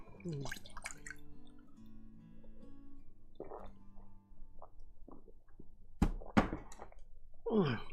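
Mineral water being poured for a drink, with a clunk of the bottle, gurgling glugs and drips, then a louder splashy pour near the end; quiet and close, with a low hum and small knocks between.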